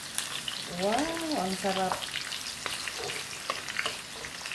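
Beef sizzles and fries in a pan while being flipped and stirred, a steady close crackle with a brief voice speaking over it partway through.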